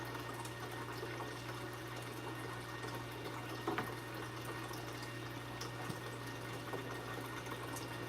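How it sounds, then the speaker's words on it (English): A low-level suction pump draws aquarium water from one spot to another, giving a steady low hum with a continuous wash of moving water, fairly quiet and unbroken throughout. "this low-level suction pump does a phenomenal job of pulling water from one location to another"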